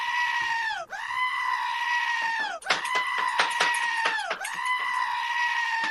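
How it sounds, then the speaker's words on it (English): Goat bleats play as a rapid run of sound effects during a livestream donation goat train: long, loud, wavering bleats with a sharp break between them, close and continuous for about six seconds. "Oh my God, more goats. Let the goats commence."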